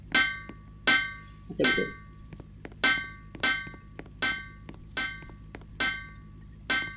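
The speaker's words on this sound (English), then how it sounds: "hammer sounds and stuff while the guy was taking on break" Steady hammering on construction in the Roblox game Random Mafia Shooter: about a dozen sharp metallic knocks at a regular, slightly uneven pace, moderately loud, with a short spoken phrase partway through.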